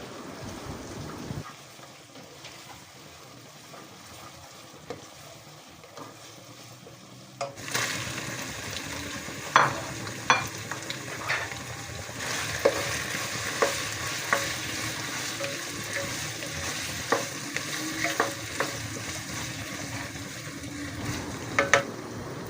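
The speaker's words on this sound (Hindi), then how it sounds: "इसको भी मज़ीद फ्राई कर रही हूँ।" Curry frying in a pan with ginger garlic paste, a steady close sizzle with scraping stirs and small clinks that grows louder partway through, no talk.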